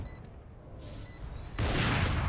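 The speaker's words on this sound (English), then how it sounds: "Zulu going for the wall bang" Wall-bang gunfire in a Valorant match: a muffled, steady burst of shots that swells into a loud, dense volley partway through, with no voices.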